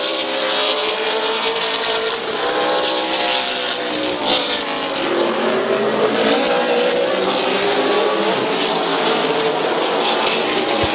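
Race cars roar around Midvale Speedway during a heat race, a loud continuous engine drone with rising and falling pitch as cars pass, crowded and sustained throughout.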